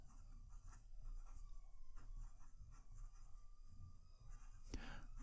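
Fine-nibbed PenBBS 456 fountain pen writing on paper, a soft continuous scratching of strokes, quiet and close, with a brief louder tap near the end.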